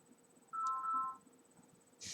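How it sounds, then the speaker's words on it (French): A mobile phone ringtone sounds in a short melodic burst of about half a second, clear over a faint, quiet room background, followed by a brief rustle. "Ah, les portables."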